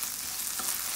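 Tomato paste gets stirred into a hot frying pot for a fish stew, a brief burst of soft sizzling with a light scrape of the spoon and nobody speaking.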